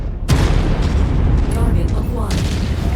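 Mech cannon blasting out compound walls in Mechwarrior 5, a loud sudden boom followed by a rumbling, crumbling explosion tail and a second burst, with a voice talking over it.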